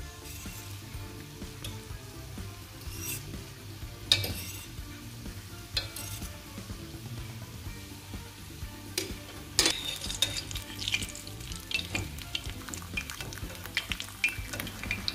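Castagnole, Italian carnival fritters, fry slowly in oil with a steady soft sizzle, while a utensil stirs and occasionally clinks against the pan.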